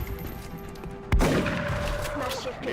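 A single sharp, loud shotgun blast in XCOM Long War, cutting through a quiet hum and trailing off into a rolling echo and rumble.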